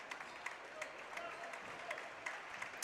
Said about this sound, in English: Standing ovation for the senior class.